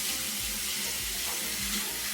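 Water runs steadily from a bathroom sink faucet, a constant close splashing rush with no voices.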